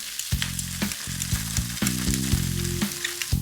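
Wide rice noodles stir-fried in a wok with black bean paste: a steady sizzle broken by repeated scraping clatters of the spatula against the metal, close and fairly loud, with no voices.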